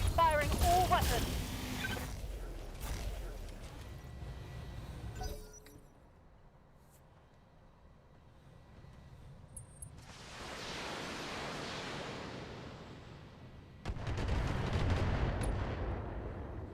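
A mech firing all its weapons at once in a video game, loud heavy cannon blasts at the start, then a quiet gap, then long rushing missile salvos and another burst of fire, with a voice talking over parts.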